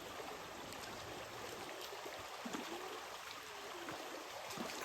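A river flowing through Cardinham Woods in Cornwall, a faint, steady wash of running water with soft gurgles, quiet and continuous with no talk.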